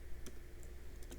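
Light clicks of a computer keyboard while entering text in an Excel spreadsheet, a few soft, irregular keystrokes close by over a faint steady hum.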